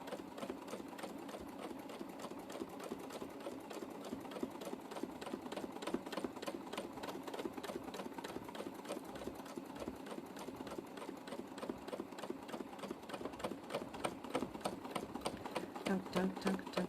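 Domestic sewing machine stitching steadily during free motion quilting with a blunt needle, a fast continuous mechanical rattle that holds an even rhythm throughout, moderately loud with no pauses.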